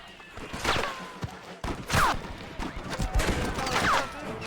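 Gunfire in the Western video game Red Dead Redemption, several loud close shots with ringing tails at uneven intervals, mixed with game sound effects and background noise, as a voice speaks in between.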